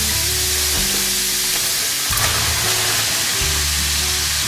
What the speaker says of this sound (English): I'm just going to cook the potatoes till it gets a little color on them